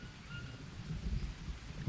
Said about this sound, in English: It's the rain!